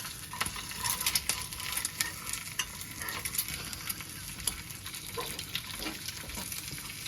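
Eggs frying in a pan, a steady loud sizzle with crackling pops and occasional scraping stirs running throughout, close up and with no voices.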